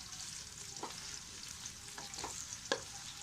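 Onions frying in a pan for an aloo gobi gosht curry, a soft, steady sizzle broken by a few sharp scrapes and knocks as they are stirred.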